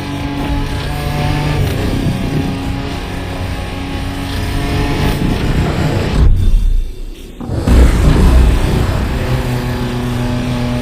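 A car driven off-road in The Crew Motorfest drones with a loud, steady engine note and rough rumble, briefly dropping away for about a second before the engine surges back.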